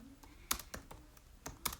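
Several brisk computer keyboard keystrokes clatter in an irregular rhythm, close and fairly faint, with soft pauses between bursts and no talking.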